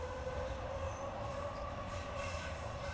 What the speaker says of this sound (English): We'll just let the train go by,